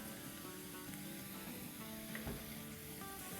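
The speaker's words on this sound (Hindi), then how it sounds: "अब इसमें हम डालेंगे 4 टेबलस्पून टोमेटो प्यूरी।" Tomato puree hitting a hot pan, a steady wet sizzle and hiss that holds throughout with faint stirring scrapes, close and even in level.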